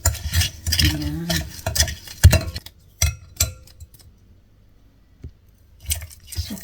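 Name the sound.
stirring sweet potato with sugar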